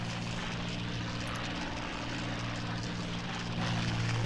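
Propeller engine of a WWII fighter plane during the Battle of Britain in the game Combat Wings, a continuous loud droning roar with a steady low hum, swelling slightly toward the end, no talking.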